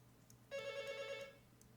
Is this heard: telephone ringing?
yes